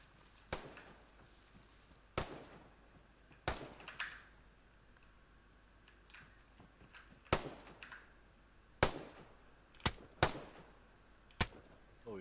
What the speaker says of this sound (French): Je vais faire des tirs sur des zombies là un peu.